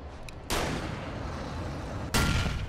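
Two sharp, loud gunshot blasts from a handgun in the video game Alan Wake, each hitting abruptly and ringing out into a long noisy tail, the second following about one and a half seconds after the first.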